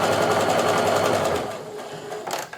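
Sewing machine running a steady, close, buzzing stitch along patriotic quilt strips, fading down after about a second and a half to quieter handling noise and a faint last whir.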